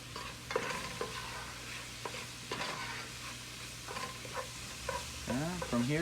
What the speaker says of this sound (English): bring your heat back up to about medium high, only to make sure you're cooking your Portuguese sausage.